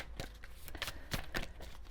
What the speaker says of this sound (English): I'm just going to shuffle this properly before I pick anything